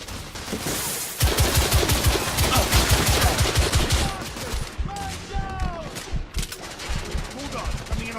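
Dense, rapid machine-gun bursts and overlapping gunshots from a firefight in the video game The Order 1886, loud and sustained with brief pauses, while voices shout in the background.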